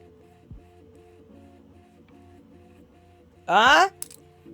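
A printer whirs in one loud, dense burst lasting a little under half a second while it prints a BB-8 figure, following a stretch of quiet room tone.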